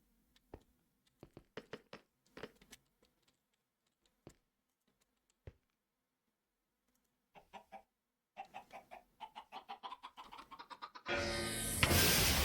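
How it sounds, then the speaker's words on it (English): Chicken clucking in the Minecraft modpack Stoneblock 4, a few sparse clucks at first and then a quicker run of them, ending in a sudden burst of loud noise. "I need the chicken to get big sized before I teleport it"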